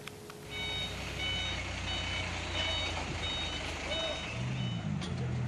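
Reversing beeps repeat steadily over a heavy diesel engine rumble as heavy equipment works to recover a bus that crashed into a ravine at Wado, Sumedang, West Java. A low engine drone and a brief air-brake hiss sound near the end.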